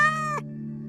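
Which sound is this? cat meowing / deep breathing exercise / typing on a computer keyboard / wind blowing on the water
cat meowing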